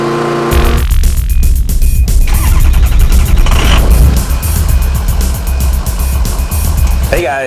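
An Atima AY3000i portable inverter generator cranks and starts, its engine catching with a loud, steady running drone that continues with uneven surges, while speech is heard.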